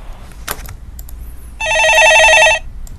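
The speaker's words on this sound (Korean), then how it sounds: "전화 받아보겠습니다" Telephone ringing in a Korean stock market call-in studio, one loud electronic ring burst lasting about a second after a brief knock, no voices.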